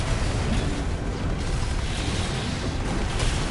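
Earshot grenade launcher explosions in Armored Core 6 PvP combat, a continuous loud, broadband roar of blasts and mechanical rumble with no clear pauses.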